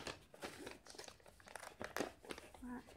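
Wrapping paper crinkles and tears in short bursts as a small gift is opened up close, with a person talking over it.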